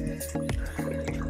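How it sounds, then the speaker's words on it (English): Half a cup of water poured into a pot of Fiji-style lamb curry with potatoes. A short splash and gurgle with drip-like plops, close and moderately loud, with a low hum from the kitchen underneath. "let's start off with about half a cup of water"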